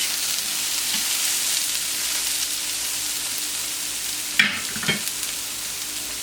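Vegetables sizzle steadily as they fry and brown in a hot pan. A utensil briefly stirs and scrapes them near the end, over the constant hiss.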